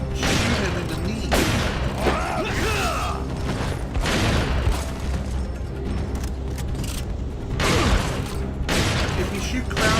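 Repeated bursts of gunfire and heavy impacts in Resident Evil 4 HD on PC while fighting Krauser, with mechanical clanks between shots and a voice talking over the action.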